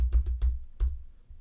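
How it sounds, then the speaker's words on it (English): Keyboard keys pressed at random on a MacBook beside a budget USB microphone, four close, muffled thumping taps in an uneven rhythm over a low rumble, with no talking. "I'm just randomly moving the mouse and pressing buttons on the keyboard"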